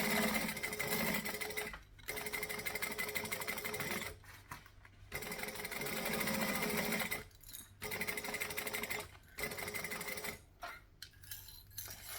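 Sewing machine running almost continuously as it stitches and back stitches over the same seam lines on a travel bag, with several brief stops between runs.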